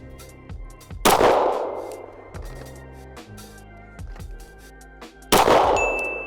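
Pistol shots from an FN 509 LS Edge ring out outdoors, each crack followed by a bright metallic ping from a steel target, with two loud clanging hits standing out among scattered shots and fading rings.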